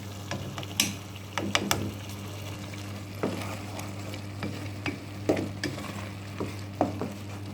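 A spoon quickly stirring an egg dish in a hot pan, with repeated scraping clicks and knocks over a low, steady frying sizzle.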